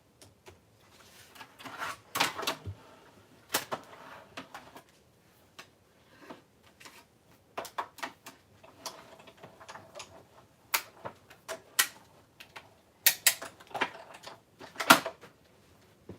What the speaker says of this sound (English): So I'm going to die cut all these pieces.